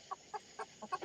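Several chickens, including a small bantam, cluck in short separate bursts about every quarter second, moderately close and fairly soft, with no voices over them.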